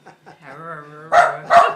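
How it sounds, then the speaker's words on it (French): Rocky, the Leblancs' dog, gives a short whining yelp and then two loud, sharp barks in quick succession, close by. "même pas Rocky, le chien des Leblancs"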